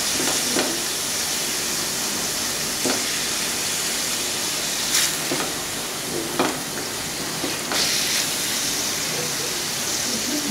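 Chicken mince cooks in a pan with a steady hiss and sizzle throughout, broken by a few brief scraping stirs.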